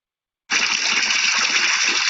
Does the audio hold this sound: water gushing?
yes